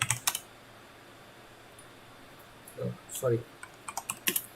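Bursts of computer keyboard typing, a few scattered clicks at first and then quick clustered keystrokes later, with a brief word spoken.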